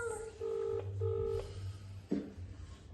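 A phone dialing out to a husband, giving a few steady touch-tone beeps followed by a brief click, close by with a low hum underneath.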